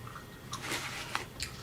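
Close, moist chewing of Levi Garrett chewing tobacco, a short run of squishy bites and mouth clicks with a small crisp snap near the end, alone without talk.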